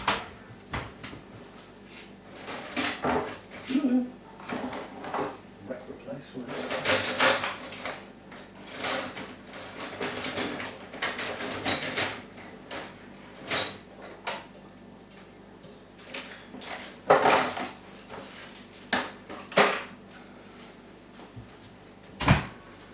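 Someone rummages through a cupboard, sending up clattering pots, knocking hangers and thumping doors in irregular, close bursts with quiet gaps between them.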